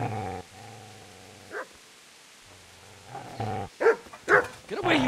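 A dog growls and barks in a Kingdom Come: Deliverance cutscene, a low sustained snarl followed by a few sharp, louder barks and yelps near the end, heard close with no talk over it.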